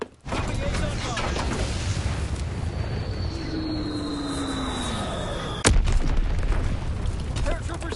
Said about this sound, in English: Anti-aircraft bursts commenced.